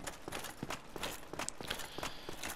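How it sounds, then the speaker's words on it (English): Armored footsteps in Dark Souls Remastered, a quick run of heavy, uneven thuds and clanks at moderate loudness against a noisy game backdrop, with no speech over them. "I hate hearing footsteps and not knowing where it's coming from."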